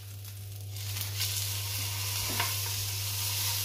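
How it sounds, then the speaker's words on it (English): A rib-eye steak sizzles steadily in a hot pan and is flipped partway through with a brief scrape. A constant low hum runs underneath. "So, our steak is getting ready for our first flip."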